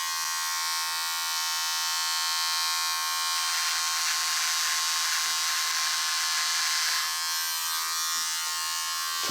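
A Microtouch Titanium Trim electric trimmer shaves a beard, giving a steady close buzz that grows louder and rougher in the middle as it cuts through hair, with no talking.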